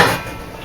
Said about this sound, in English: I'm going to take the lid off